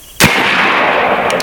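A 72 caliber AEA Zeus airgun, 16-inch model, fires a single sharp, loud report at close range, then leaves a long, noisy wash of ringing decay.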